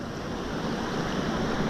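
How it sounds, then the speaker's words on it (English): Ocean waves roll in at Old Orchard Beach, Maine, as a steady, broad wash of surf with wind, loud and continuous and without talk. "the tide is rolling in"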